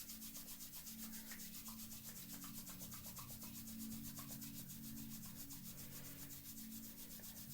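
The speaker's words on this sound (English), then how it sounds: "Bring the palms together and start to rub them" Palms rub briskly together during a yoga warm-up, a soft, steady rhythmic swishing of skin on skin that continues evenly and faintly, with no speaking over it.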